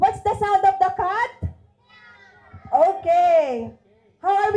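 Voices at a child's first birthday party mimic a cat's meow, with drawn-out, wavering calls at close range between bursts of lively talking.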